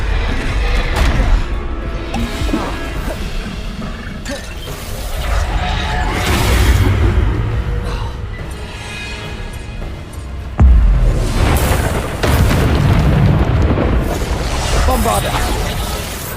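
Spell blasts in Hogwarts Legacy, with repeated crashes, booms and whooshes rolling over a dense, loud game soundscape, while a player keeps shouting spell names over the combat.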